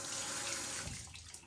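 A tap runs with close, steady water flow into a sink, then tapers and fades within about a second and a half.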